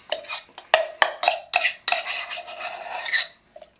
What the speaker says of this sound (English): You're really scraping that bowl.